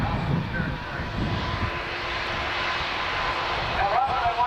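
A Boeing C-17 Globemaster III military transport roars at the 2024 Dayton Air Show, a loud sustained engine drone with rumbling low end, steady throughout with crowd or announcer noise mixed in.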